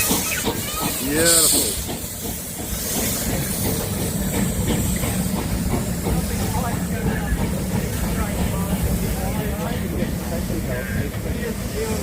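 Greenmount steam locomotive hissing steam in a continuous loud rush, with a brief whistle-like tone near the start and a person speaking over it.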